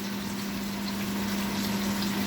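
Water poured into a pot for red pozole, a steady, even rushing stream with a low hum beneath, continuous and fairly close, without voices.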